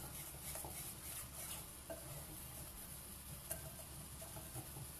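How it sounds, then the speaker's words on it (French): Eggs, sugar, milk and cornstarch are whisked together in a bowl for a vanilla custard dessert, a steady quiet swishing and light clinking that runs continuously with no talking. "je mélange bien mes œufs, mon sucre, 2 louches de lait et la maïzena"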